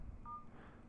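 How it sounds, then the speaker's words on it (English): A Droid X phone's dial pad gives out a single short, steady touch-tone beep while dialing voicemail with *86, sounding over a faint low hum. "if we wanted to dial the voicemail, we'd just dial"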